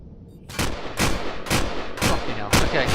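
Salvo of rockets fired from a spacecraft in the space game Empyrion: five loud, booming launches in steady succession about half a second apart, each a sharp broadband blast over a continuous rumbling bed.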